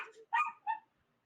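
A dog gives a few short, close yips and whimpery barks in quick succession, separated by brief pauses of silence.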